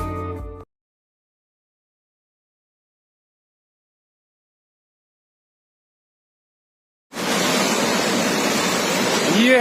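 Ganga river water rushes at Gomukh near Gangotri, heard as a dense, loud, steady roar of flowing water. It starts after a long stretch of silence that follows a brief opening sound.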